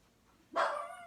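A single dog bark at close range in a quiet room, with no talking.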